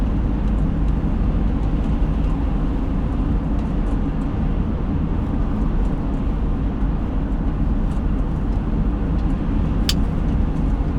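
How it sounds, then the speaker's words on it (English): A car driving on the road early in the morning, heard from inside the cabin as a steady, loud low rumble of engine and road noise that never lets up, with a faint click near the end and no talk. "Gotta remember I'm driving"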